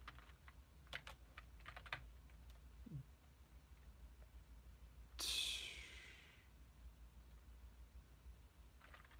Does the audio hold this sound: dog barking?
no